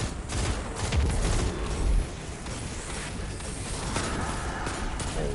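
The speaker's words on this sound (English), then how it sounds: "Break the shield first. Now you can shoot the knight." Rapid gunfire in the video game Destiny 2 as a player shoots a shielded knight enemy, a dense burst of shots followed by quieter firing and game effects, with no talking.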